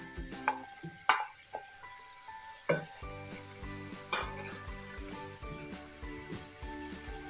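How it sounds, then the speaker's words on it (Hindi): Onions frying in half a cup of oil in a kadai, with a steady close sizzle and occasional louder stirring clinks and scrapes of a utensil against the pan. "हम इन्हें लाइट ब्राउन होने तक प्याज को फ्राई करेंगे।"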